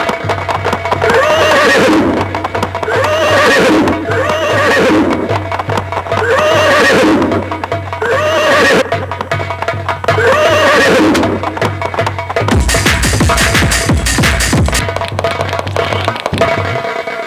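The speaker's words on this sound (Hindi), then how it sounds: "महाराज का घोड़ा महल से प्रवेश कर चुका है" Horses neigh loudly again and again, with rhythmic hooves clip-clopping under them as they move, and a burst of rapid hoofbeats near the end.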